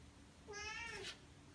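A pet cat gives one short, faint meow, a clear rising-and-falling call of about half a second against a quiet room.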